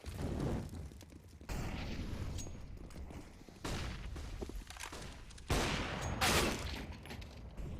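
Rapid bursts of gunfire from a CS:GO match in an LPL Pro ANZ 2022 esports game, loud crackling volleys in three or four separate clusters with short gaps between, no talk.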